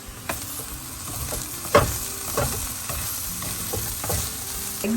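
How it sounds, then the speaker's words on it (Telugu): Egg and carrot sizzle in a hot pan while being stirred, with steady frying crackle and repeated scraping strokes of the spoon against the pan at a close, moderate level. "ఎగ్ ఇట్లా చిన్న చిన్న ముక్కలు అయ్యేలాగా ఫ్రై చేసుకోవాలన్నమాట"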